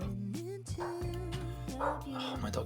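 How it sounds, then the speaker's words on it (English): A pet dog barks repeatedly in the background, a string of sharp, pitched yaps and yips heard indoors at moderate distance and fairly faint. "Oh, my dog barks at bloody everything."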